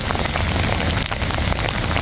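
Heavy rain pouring down across Kerrville during flood recovery, a dense, loud, unbroken wash of drops hitting surfaces with no voices.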